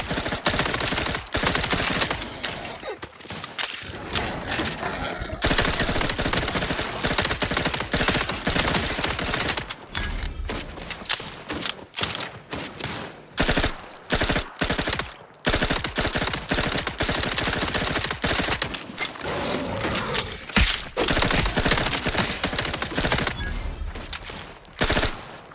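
Sustained bursts of automatic gunfire from a companion in the video game Outer Worlds 2, loud rapid volleys broken by brief pauses, with no talking.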